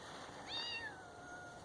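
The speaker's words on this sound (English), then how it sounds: "Oh, I've got other cats coming." A single cat gives a soft, faint rising-and-falling meow, close but quiet, with no talk around it.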